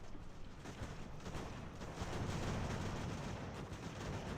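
Distant muffled cannon and rifle fire in a video game battle, a continuous rumbling roll of overlapping shots and booms, fairly faint and unbroken.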